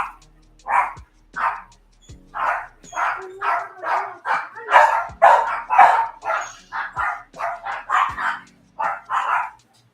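A female dog barks repeatedly indoors, about twenty close, loud barks in uneven bursts, eager to be let outside.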